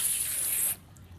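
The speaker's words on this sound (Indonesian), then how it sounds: "Kita semprot Kanibunya" Water spraying from a sprayer onto a car bumper while cleaning off scratches, a bright steady hiss for most of a second that then cuts off abruptly.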